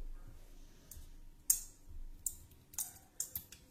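Small cutters snip between two capacitors of a homemade capacitor pack, several sharp faint clicks and snaps spaced over a few seconds in a quiet room.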